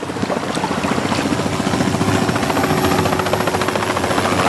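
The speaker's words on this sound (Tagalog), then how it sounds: "Helikopter dagiti soldado." Military helicopter passing overhead, a steady loud rotor chop with a broad engine roar that holds throughout, no voices.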